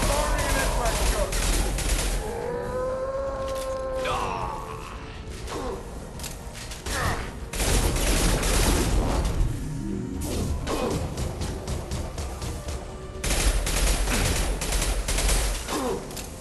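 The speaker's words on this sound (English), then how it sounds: "Taking heavy fire. I'll put him down. Firing an impact gun." Heavy gunfire and impact gun blasts in Mass Effect 2 battle, dense bursts of shots and crashes with whining mechanical tones, loud and continuous over sixteen seconds, with combat voices occasionally mixed in.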